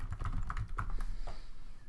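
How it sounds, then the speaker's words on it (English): Rapid, uneven keystrokes on a computer keyboard as numbers are entered, close and clear, with a burst of clicks that slows toward the end. "I was just typing in more numbers"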